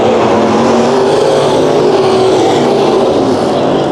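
Race cars roar in a heat race on the Bakersfield Speedway dirt track, their engines loud and sustained as several cars thunder past together with steady, overlapping engine drone throughout.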